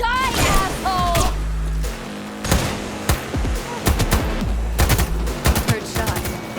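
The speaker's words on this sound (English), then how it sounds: "Heard shots." Bursts of automatic gunfire crack through a Cyberpunk 2077 firefight, rapid clustered shots and single heavy reports in uneven volleys, loud and close over game music and effects.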